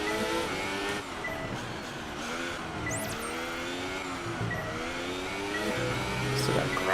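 Formula 1 car in F1 2018 running with grass on its tires, a continuous loud engine whine shifting through revs with faint scrubbing tire noise, a voice talking underneath.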